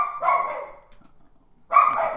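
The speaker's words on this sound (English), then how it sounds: "all you can hear right now is the dog barking" A dog barks in two close, loud bursts separated by a short quiet gap, heard plainly and alone in an indoor studio.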